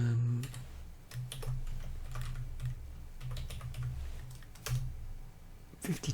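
Typing on a computer keyboard, with a steady stream of quick, close key clicks running throughout and a low hum underneath.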